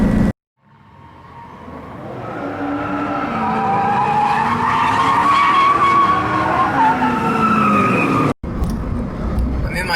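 Car skidding with tires squealing as the engine revs, a loud sustained screech that rises and holds for several seconds, then cuts off abruptly before a brief burst of noise.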